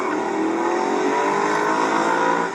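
Audi RS5 cars race around a track, their engines roaring loudly and steadily under load with rising revs throughout, a dense continuous drone with no talk.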